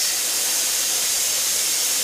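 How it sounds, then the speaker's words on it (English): Steam hisses steadily from a pressure canner venting before the weight goes on, during canning of butternut squash, a loud, close, continuous airy rush without any change or pause. "overpressure plug at the back lifted up and I was getting a steady stream of steam out of here"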